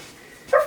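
A single sharp dog bark rings out near and loud after a quiet stretch, brief and alone with no talk over it.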